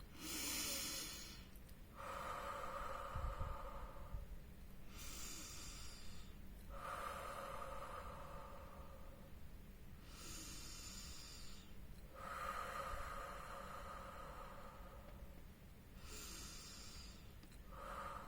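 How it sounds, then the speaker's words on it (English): Slow guided breathing out through the mouth, several long airy exhalations repeating every few seconds, close and soft with no talking. "So breathe with me"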